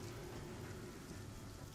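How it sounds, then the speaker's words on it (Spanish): Storm rain pounds steadily on a roof as a faint, dense hiss with a low rumble beneath, continuous and with no voices. "No fueron los estruendos de la tormenta, ni la lluvia que azotaba como piedras el techo"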